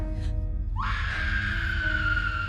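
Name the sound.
woman screaming hysterically in horror film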